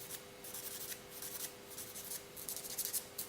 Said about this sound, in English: So I'm gonna trim them in a pointy style.